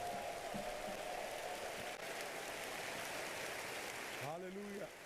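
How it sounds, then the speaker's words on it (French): A church congregation applauds, a dense continuous wash of clapping that fills the room throughout, with a voice speaking over it near the end. "Give the Lord the biggest hand"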